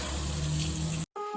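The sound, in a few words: tap water running while washing face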